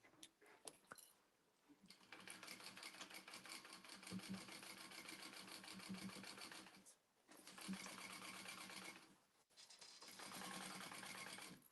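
A domestic sewing machine stitches through thick vinyl layers in fast, continuous mechanical bursts, stopping briefly twice before running again, close and clear with no talk.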